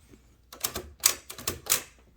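Keys strike on a 1920-1922 Helios-Klimax typewriter, its deep-travel keys giving about six clacking hits in an uneven rhythm, close and crisp with no talk.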